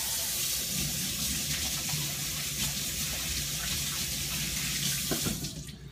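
A kitchen tap runs steadily for hand-washing while fish is being prepared, a continuous close rush of water that fades out at the very end.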